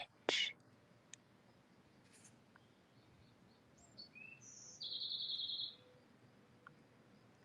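Small birds chirp and tweet in short bright calls with a longer trilling note, fairly faint over a quiet hiss, with a soft whisper-like breath near the start.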